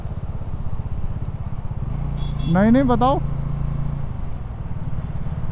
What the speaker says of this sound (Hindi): अरे मैं अभी बाइक चला रहा हूँ